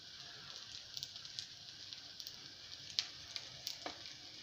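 Slices of Christmas cake frying in a pan give a soft, steady sizzle, with faint crackles and pops scattered throughout, close and alone.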